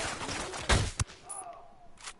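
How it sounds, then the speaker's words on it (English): Sniper rifle shots in the video game Ghost Recon Wildlands, two sharp, loud cracks close together followed by a fainter report and a lingering tail, with a voice talking faintly underneath. "the high damage of the sniper rifle is very helpful in this scenario"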